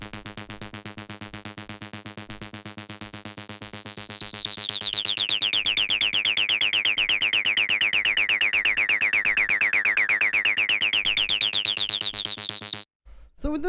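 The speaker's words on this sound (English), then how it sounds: "The first sound we have here is the 303" A Roland 303 acid synth drones on a steady G sharp at 125 BPM, a buzzing rapid pulse whose resonant filter sweeps down and slowly back up, loud and alone before cutting off.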